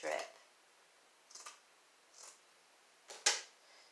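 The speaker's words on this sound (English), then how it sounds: "Then I'm going to take the rest of this strip and cut it down again." Scissors snip a thin strip of porous material in several separate, sharp cuts, close and quiet, with pauses between snips.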